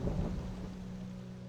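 Rain pours steadily in a Minecraft thunderstorm as a low thunder rumble fades away, moderately loud and without any speech.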